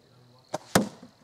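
Arrows fired from a Pocket Shot slingshot land in two crisp, close hits about a quarter second apart, the second one louder with a short rattling tail, heard over a quiet background.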